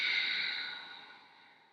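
A yoga instructor leading a vinyasa flow releases a single long, breathy exhale, close and soft, fading out gradually over under two seconds.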